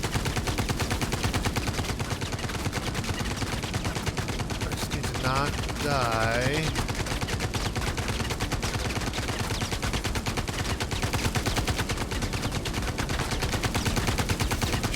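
Rapid automatic gunfire rattles almost nonstop through a firefight in the VR shooter VR Citizen, loud and dense, while a player speaks briefly over it.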